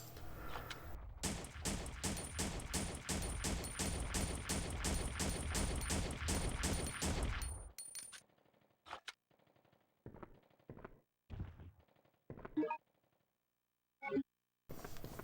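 Gunfire in the video game Resident Evil Survivor: a long, rapid burst of evenly spaced automatic shots that stops abruptly, followed by scattered single shots and short bursts separated by near-silent gaps.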